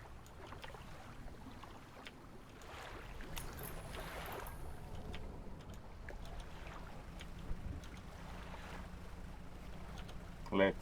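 A small fishing boat glides across dark water in the gothic fishing game Dredge, giving a steady low wash and hum that runs unbroken and fairly close throughout, with no voices.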